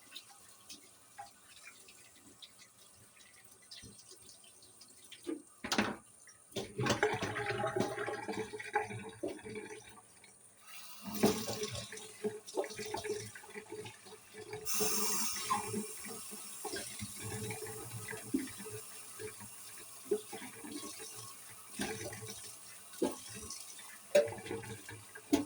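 Tap water runs steadily for washing peeled potatoes and pineapple in a sink, with splashing, rushing flow and intermittent surges as the produce is rinsed, close and fairly loud with no talking.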